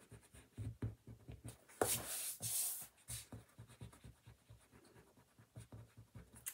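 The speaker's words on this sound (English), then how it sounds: "I'll erase my little marks on the corner all the way around." An eraser rubs back and forth over pencil marks at the corners of a drawing on paper, making quick, close scratchy strokes in an uneven rhythm, with one louder, longer scrubbing burst partway through.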